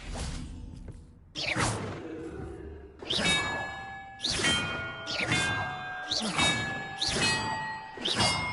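Bells in Hogwarts Legacy ring one after another, roughly a second apart, each bright metallic strike ringing out with sustained tones and a whooshing swell, layered over a faint game soundscape.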